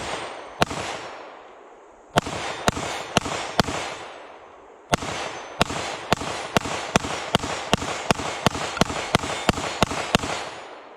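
A Keltec PR57 pistol fires Fiocchi ammunition in sharp, loud cracks, first a few scattered shots with pauses, then a steadier string of rapid reports, each followed by a short ringing decay.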